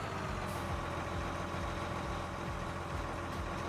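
A farm tractor in a farming video game sits idling, its engine a steady, loud rumbling drone that holds unbroken throughout with no talk over it.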